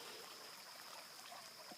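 The Blackwater River flows outdoors as a faint, even trickling wash with soft splashy detail, heard alone for a moment at low level.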